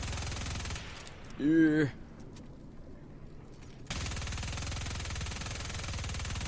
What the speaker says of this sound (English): You start with the obvious assault rifle, which I'm using right now.